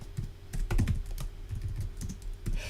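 Rapid, uneven clatter of keys on a computer keyboard as code is typed, close and steady for a few seconds with bursts of quicker strokes and no voices.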